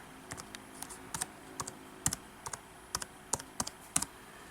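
Typing on the keyboard of an early 2006 MacBook Pro 15-inch, a quiet, uneven run of distinct key clicks in small clusters, tapped slowly by one hand at close range.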